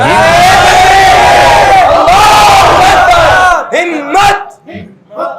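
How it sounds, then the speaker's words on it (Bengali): A large crowd at a Ramadan night gathering shouts the Islamic takbir chant "Allahu Akbar" in loud, sustained unison. The roar fades into a few scattered voices after about three and a half seconds. "সবাই বলেন নারায়ে তাকবীর।"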